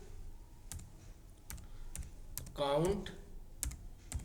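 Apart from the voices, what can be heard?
typing a formula on a computer keyboard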